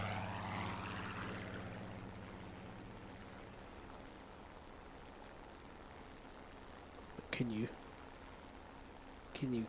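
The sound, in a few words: propeller plane flying, from a video game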